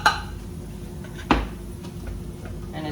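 A spoon stirs in a cooking pan for a keto breakfast casserole, then the pan is lifted off the heat, with soft scraping and clinking and one sharp metallic knock midway, set against quiet kitchen background.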